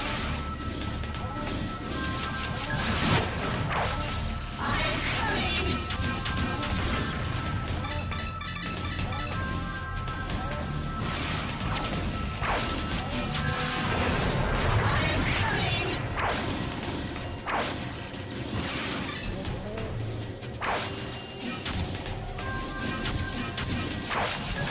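Mech combat in Zone of the Enders: The 2nd Runner, a heavy mech smashing into surrounding enemies, with repeated loud crashing impacts, whooshes and metallic clinks over dense game music and effects throughout.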